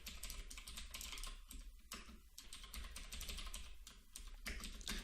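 Quick, uneven keystrokes clatter on a computer keyboard in short bursts with brief pauses, close and fairly quiet, with no talking.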